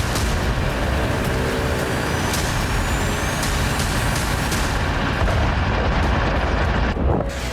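Heavy night-time artillery shelling in Donetsk during the Russia–Ukraine war: a dense, continuous roar of booms and rumbling, loud and sustained throughout, with scattered sharp bursts standing out and no speech.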